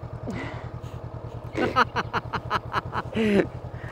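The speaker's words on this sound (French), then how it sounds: "Je fais demi-tour et je te replace la moto." A motorcycle engine idles steadily close by on a slalom and avoidance training course while the bike is turned around, with scuffs and clatter of handling over the low even running.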